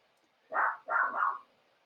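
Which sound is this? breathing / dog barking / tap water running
dog barking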